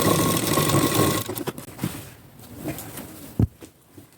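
Domestic sewing machine stitching a plain four-tuck blouse, a steady whirring run for the first second or so, then short intermittent bursts and clicks as the fabric is adjusted.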